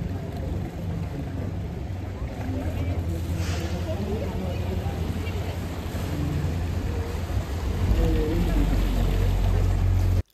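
Tour boat on the canals of Bruges, with a steady low engine drone and water noise running throughout and rising slightly near the end, under continuous talk.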